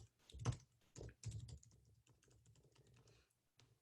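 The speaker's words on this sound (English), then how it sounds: "Give me just a moment to type these out." Someone types on a computer keyboard nearby: a few louder key strikes at first, then a quieter, irregular patter of keystrokes, with no talk.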